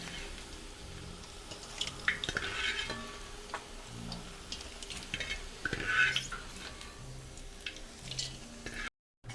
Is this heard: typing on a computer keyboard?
no